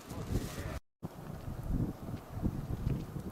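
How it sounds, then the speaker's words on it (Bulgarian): Gusty wind blusters into the microphone outdoors along a snowy ultra race course in Lapland, a steady low roar with surging gusts and one brief dropout. "Излезна някакъв вятър."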